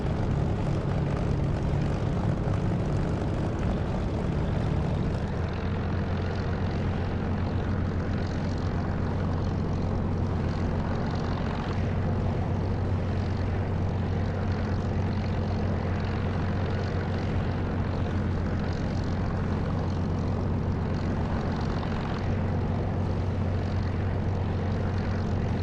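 Propeller drone of a Spitfire's piston engine in the DCS flight simulator, a steady loud engine hum with a low throbbing tone that holds throughout, without any talk.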